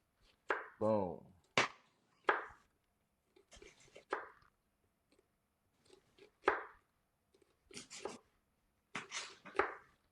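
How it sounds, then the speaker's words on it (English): A knife cuts through an onion on a cutting board in scattered chops, some single and some in quick pairs, crisp and close with quiet gaps between, plus a brief voiced noise near the start. "So we're going to make our other slices."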